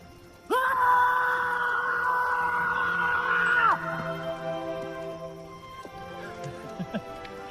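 A loud sustained human scream erupts after a moment of quiet, holds for about three seconds, then falls away into quieter voices and background sounds in an action film scene.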